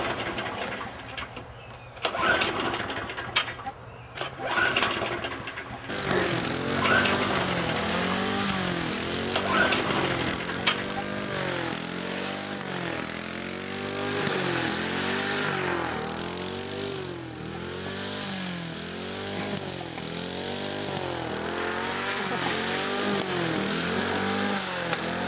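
A lawn mower engine drones steadily while cutting a lawn, its pitch rising and falling in repeated sweeps as it works back and forth, loud and close, after a few seconds of quieter broken sound at the start.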